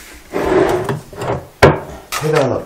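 Wooden furniture drawers, one shallow and one deep, slide open and shut in a home during a furniture delivery. Close, rasping wooden scrapes come in several strokes with a sharp knock midway, and a voice briefly joins near the end.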